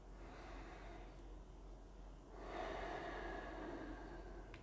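Slow, audible breaths drawn in and let out during a seated yoga twist stretch, faint and close, with a steady low hum underneath.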